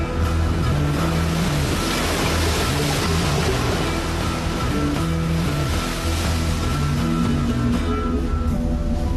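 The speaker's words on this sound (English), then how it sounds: "every wave breaks slightly different than the one before" Ocean waves break and churn continuously, a loud, dense roar of surf with wind that swells and eases without pause.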